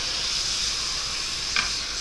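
A hot grill skillet of steak and teriyaki sauce sizzles with a steady, close bright hiss and one brief louder spit near the end, with no talking.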